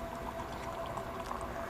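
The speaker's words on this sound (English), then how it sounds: "Open it up and pour them both in." Two parts of a compound being poured together into a container, a soft steady liquid trickle and fizz running continuously at close range with no voices.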